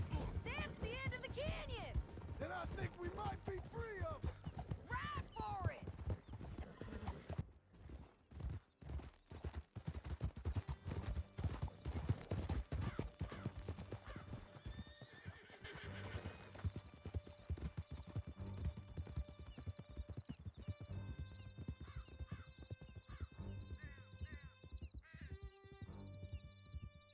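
Horses gallop hard in a steady clip-clop rhythm through a canyon in Red Dead Redemption 2, with scattered gunfire, a whinny and game voices over the ride, fading to quieter stable ambience with speech.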